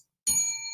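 A single bright bell ding strikes suddenly after a short silence, then rings on with a clear, sustained tone that fades only slightly, heard alone.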